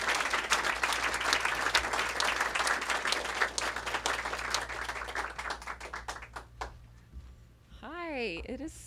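An audience at the Politics and Prose bookstore applauds to welcome an author, sustained dense clapping for several seconds that fades out, followed by a voice beginning to speak.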